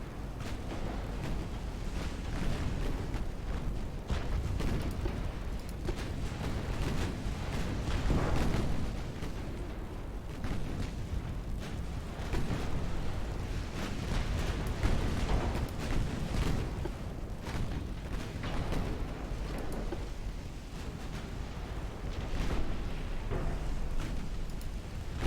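Naval high-explosive shell fire during a 1900 British battleship campaign in Ultimate Admiral Dreadnoughts, a continuous rumbling barrage of distant booms and bursts that runs unbroken throughout, with no voices.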